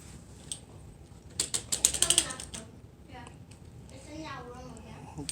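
Ratcheting clicks from tightening the height adjustment on a first drum set's stand, a quick burst of sharp mechanical clicks mid-clip amid handling noise, with a voice talking nearby.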